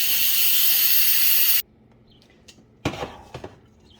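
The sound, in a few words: steam venting from quick release of a pressure cooker with pasta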